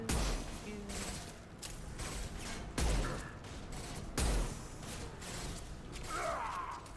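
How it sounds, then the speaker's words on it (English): Impact shot gunfire in the Mass Effect 2 video game, heard as several dense, punchy bursts with hard thumps spaced a second or so apart, layered with mechanical whooshes and game effects under a constant busy background. "Firing an impact shot."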